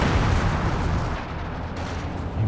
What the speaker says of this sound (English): Now we've got the LEFH pounding down near the ZIS.